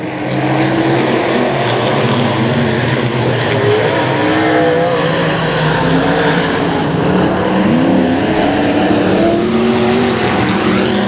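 Pro Mod race cars roaring around the dirt oval at Boothill Speedway during a night heat, a dense, loud wall of engine noise with layered revving and whining tones from several cars passing, sustained throughout.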